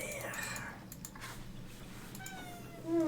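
A pet cat meows indoors, a short high mewing call near the end, heard close by over a low steady hum with a person talking quietly in the background.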